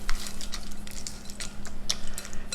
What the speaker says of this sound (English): We'll go ahead and mix this up real quick.